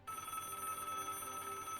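A telephone rings steadily and evenly throughout, a continuous electronic bell tone from the point-and-click adventure game Broken Sword.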